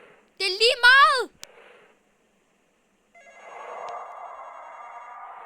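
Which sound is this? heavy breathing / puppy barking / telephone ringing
telephone ringing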